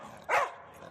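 A dog in fight mode, ready to attack, lets out a single short, sharp bark at moderate distance, with no other sounds around it.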